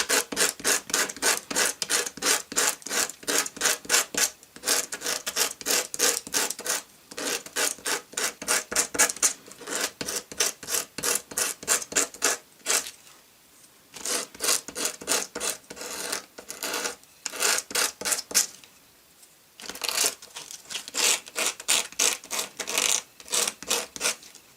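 Filing or sanding the cut ends of a small paintbrush handle on a vintage Mego Friar Tuck toy, close rhythmic rasping strokes in rapid runs separated by brief pauses, steady and loud with no talking.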